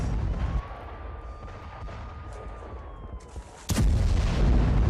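Ballistic missile strike on a Mossad office, a distant rumble with a steady whine, then one sudden heavy blast near the end followed by sustained roaring noise.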